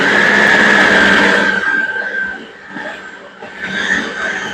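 A food processor pulses cream puff dough after another egg goes in, a loud dense whirring burst that drops off partway through, leaving a quieter uneven churning.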